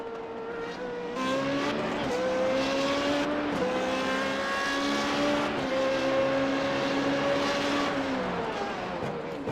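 A Renault 3.5 formula car laps Bathurst in a racing video game, its engine a loud, continuous high whine that climbs and drops through gear changes with no pauses.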